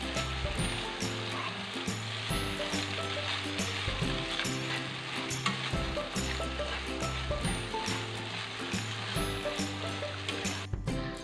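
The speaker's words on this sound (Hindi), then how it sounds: "मैंने हलवे को 15 से 20 मिनट भूना है, मुसलसल भूना है और इसमें मैं मुसलसल चम्मच हिलाती रही हूँ।" Egg halwa roasts in a heavy-bottomed pan while a spoon stirs it constantly, giving a steady sizzle broken by repeated scraping and clinking strokes of metal on the pan, close up.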